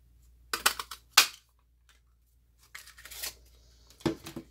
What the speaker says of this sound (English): I'm going to punch out 2 balloons.